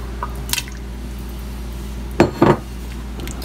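A spoon stirs a pot of pork and vegetable stew in veloute sauce with pre-cooked potatoes, giving a few soft wet clinks and scrapes, one brief tap early and a pair of louder knocks near the end over quiet kitchen hum.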